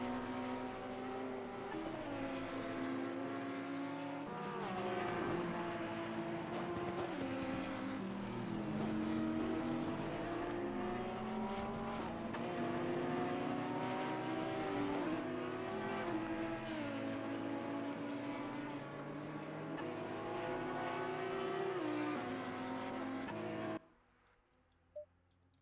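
Several race cars roar around the Bathurst circuit in the Xbox game ACC, engines loud and continuous with overlapping rising and falling gear-shift whines, cutting out abruptly near the end.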